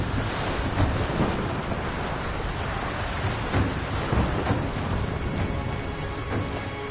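Steady, dense rain with low rumbling thunder rolling underneath, a thunderstorm closing in within the video game Rise of the Tomb Raider, continuous and enveloping without any talk.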